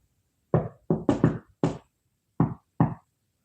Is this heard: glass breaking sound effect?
no